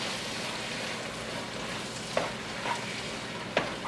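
Chili ingredients, including leftover brisket and beans, sizzle in a hot pan as they are stirred, a steady moderate frying hiss broken by a few light scraping clinks of the utensil.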